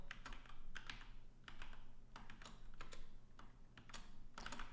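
Rapid typing on a computer keyboard while working in the Burp Suite web-hacking tool, heard as irregular bursts of clacking keystrokes with short pauses, close and fairly loud over a steady low hum.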